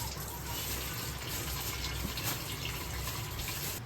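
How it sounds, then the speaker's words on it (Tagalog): Tap water gushing steadily into a sink while fish are washed before being made into paksiw and fermented bagoong, a constant close, full splashing rush from start to finish. "So, hugasan muna namin ang isda."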